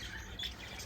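Budgies in an aviary flock give a brief blur of overlapping squawks and chirps, faint and somewhat distant, with no voices over the calls.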